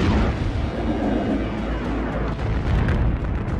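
Heavy explosive impacts of the Late Heavy Bombardment battering the inner solar system's planets and moons, a deep continuous rumbling roar with scattered booms layered through it, loud and unbroken throughout.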